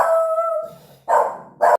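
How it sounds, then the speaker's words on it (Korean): A house dog barks at someone walking past: a drawn-out howling bark followed by two short, loud, close barks in quick succession. "잠깐 멍멍이가 짖어갖고 죄송합니다. 예, 사람이 지나가는데 짖어요 맨날."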